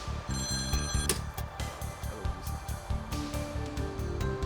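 A telephone rings with a repeated electronic bell-like tone over a steady backdrop of music, holding at a fairly constant level throughout without any talking.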